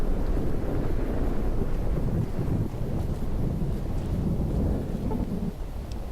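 Thunder rumbling through a radiation storm in the video game Fallout New Vegas, a steady loud low roar with wind and rain-like noise running throughout, no talking.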